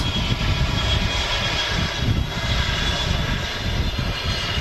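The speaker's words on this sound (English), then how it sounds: "Another Jet 2 757." A Jet2 Boeing 757 arriving at Manchester Airport, its engines roaring steadily and loudly throughout with a broad, rumbling low end and airy hiss, no voices.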